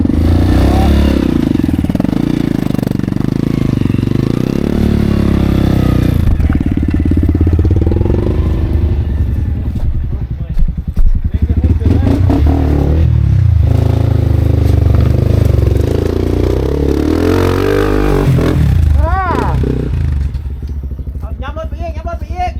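An enduro motorcycle on a newly opened mountain trail in Laos revs hard and continuously, its engine rising and falling in pitch with clattering, up close, while people talk over it.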